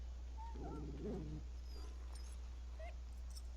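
A sick dog in Dragon Age Origins lets out a short, pitiful whimper followed by a brief whine, then a couple of faint high yelps over a low steady hum.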